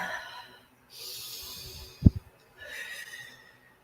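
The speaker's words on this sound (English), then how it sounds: "Just breathe in." A slow, deep breath in, then a soft exhale, with a short snort-like thump in between, heard close and without speech.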